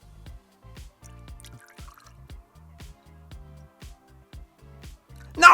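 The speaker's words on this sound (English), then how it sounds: "We'll dissolve our chocolate into this ethanol and then we'll pour it into water" Chocolate dissolved in ethanol is poured into water, heard as a run of soft, regular drips and trickles spaced about half a second apart. A louder splash comes at the very end, and no one speaks.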